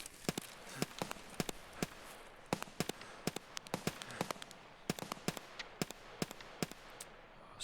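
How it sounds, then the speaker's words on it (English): Distant shooting across the way in the video game Escape from Tarkov (SPT), heard as a scattered series of sharp, irregular cracks over a low background hum. "there is some shooting going off across the way"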